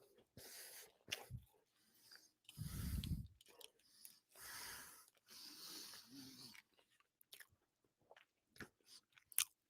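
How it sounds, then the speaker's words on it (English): A person chewing and biting into food close to the mic, with wet crunchy bursts in irregular clumps separated by quiet gaps, and a few sharp clicks and smacks near the end. "Sorry, I'm chewing"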